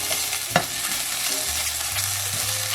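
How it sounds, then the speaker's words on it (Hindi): Garlic ginger paste fries in a little oil for qeema spring roll filling, with a steady close sizzle, a sharp stirring scrape near the start and a low hum beneath. "ऑयल बस इतना ही डालना है कि लहसुन अदरक को हम थोड़ा सा भून सकें और अपना कीमा ऐड कर सकें"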